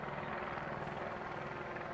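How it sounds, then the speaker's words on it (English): A helicopter hovers over the Tour de France departure crowd in Tours, a steady, fairly faint rotor drone with a soft rhythmic thump and no break. "Look at the chopper."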